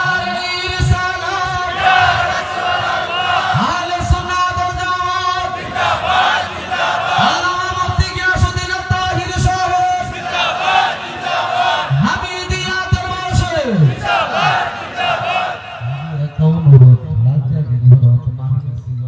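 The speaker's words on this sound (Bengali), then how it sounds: "স্লোগান দেন।" A large crowd at a packed Bangladeshi Islamic mahfil gathering chants slogans in loud rhythmic unison, call-and-response bursts repeating over a roaring murmur, with a voice leading over the crowd before the chanting trails off.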